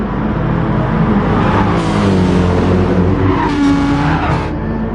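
Race cars roar in a video game, a Lexus on brand-new super soft tyres pushing another car, with a steady loud engine drone, shifting revs and brief tyre squeals throughout.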